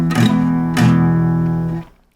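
Guitar open chord strummed with fingers at the back of the fret, two strums ringing with a buzzing rattle before being cut off, loud and close.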